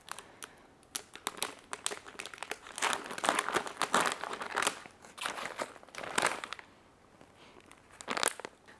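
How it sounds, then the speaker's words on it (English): Crinkly plastic bag of carnivorous plant soil being torn and wrestled open, a dense run of crackling rustles and rips up close, pausing briefly before a final burst. "Don't you hate it when you rip open bags like this and then you can't open it?"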